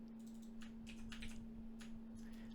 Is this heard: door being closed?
no